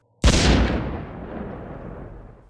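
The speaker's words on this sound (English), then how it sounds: "shot it dead with silver bullets from my silver rune" A silver rune gun fires as a single loud, booming blast, followed by a long rumbling echo that slowly fades away.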